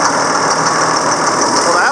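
A Hiniker stalk shredder's engine fires up and settles into a steady, loud running drone with a bright whining edge, and people talk over it.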